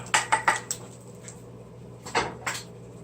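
Several quick metallic knocks and scrapes of a pan as a smilax and wild garlic omelet is flipped, a cluster early on and two more clatters later, fairly close with a low hum underneath.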